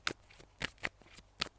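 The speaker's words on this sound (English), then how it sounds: "I'm just going to shuffle these tarot cards" Tarot cards being shuffled by hand, a quick series of crisp riffling flicks and slaps, close and clear.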